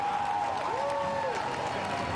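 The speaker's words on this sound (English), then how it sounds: "Sam Bird emerges to the roar of the crowd" At a Formula E podium in Putrajaya, Malaysia, a distant crowd roars and applauds steadily under a constant wash of noise, with a tonal whine sweeping through the middle.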